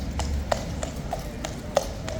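Horse hooves clip-clopping on a hard street surface, a series of sharp, evenly spaced taps at moderate distance over faint background murmur.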